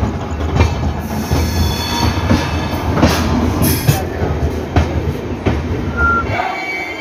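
Okha Express train at Junagadh Junction at night, a steady rumble of rolling railcars with periodic wheel clicks and faint squeals, continuous and close throughout with no voices.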